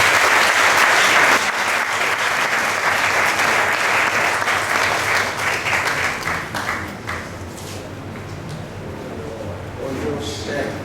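Sustained applause from a crowd greets the sponsor at a Bible dedication ceremony in Grand Bassam, loud dense clapping that gradually thins and softens over about ten seconds.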